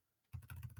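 Quick typing on a computer keyboard, a short burst of about half a dozen light clicks following a brief near-silent pause, close and faint.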